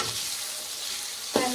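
Chopped tomatoes fry with cabbage and cauliflower in a pan, making a steady, quiet sizzle, with one short clunk near the end as something is stirred or added.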